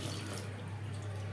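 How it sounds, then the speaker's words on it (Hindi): Water runs steadily from a brass central basin mixer tap into a wash basin, a constant even hiss and splash heard up close without any talk. "एक साइड में इसके पानी आ रहा है, दूसरी साइड में पानी नहीं आ रहा है"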